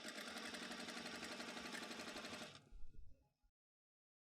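A sewing machine stitches a T-shirt hem in a steady, fast buzzing run for about two and a half seconds, then slows with a few clunks and stops, leaving silence.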